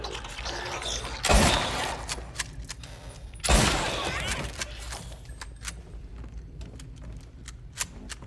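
Two sharp, loud gunshots a couple of seconds apart, fired at nurse enemies in the Silent Hill 2 Remake labyrinth, each with a short ringing tail, over a low ambient rumble and faint clicking.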